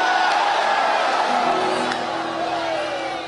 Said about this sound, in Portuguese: Dê um grito de glória a Deus aí